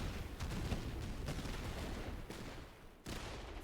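Grenade blasts and a musket volley in the video game Master of Command, a dense continuous roar of overlapping gunfire and explosions with a short dip before a final burst, faint overall.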